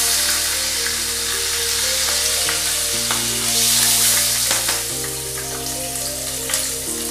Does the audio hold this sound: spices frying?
yes